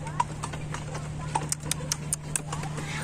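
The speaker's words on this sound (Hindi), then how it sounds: "और ये हमारा घोड़ा चलने लगा है" Hooves of a horse pulling a cart clip-clop in a steady, uneven walking rhythm, fairly close, over a constant low rumble and faint background noise.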